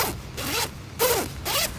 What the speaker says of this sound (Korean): 지퍼 여닫는 것도 굉장히 부드럽고